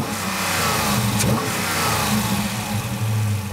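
A 2020 Dodge Charger Scat Pack with a 6.4-liter V8 revs close by, a loud, deep engine roar that swells and holds with a brief rise partway through.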